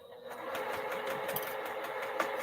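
A sewing machine stitches silk for a cathedral window quilt block, giving a rapid, even mechanical whir with a quick rhythmic needle patter. The sound is continuous, close and moderately quiet, with no voice.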